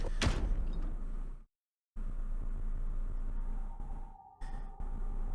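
A door slides open in the video game Zero Escape: Virtue's Last Reward, a mechanical whoosh and thud over a steady low hum, with short gaps of near silence and no talking.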